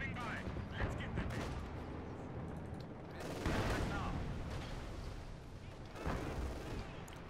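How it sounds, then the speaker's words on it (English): Artillery shelling and gunfire in Company of Heroes 2: dense, rumbling battlefield fire with heavy blasts landing near the start, around the middle and toward the end, under a voice talking. "I think they just threw in some arty."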